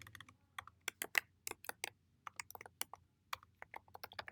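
Typing a folder name on a computer keyboard, with a run of crisp, irregular keystrokes close by and brief pauses between bursts, and no talking.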